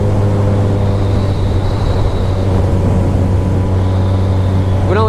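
A 2010 Kawasaki Ninja ZX-14R with about 6,000 miles cruises in sixth gear, its engine holding a steady, loud drone under rushing wind, with a brief rising whine near the end.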